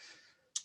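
Quick clicks of a computer keyboard being typed on, a couple of sharp taps near the end after a fainter stretch, quiet and close.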